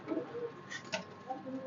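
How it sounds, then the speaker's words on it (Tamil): Pigeons in a rooftop loft give soft, low coos, a few faint calls scattered over quiet background noise. "சாதா புறாவும் இருக்குது"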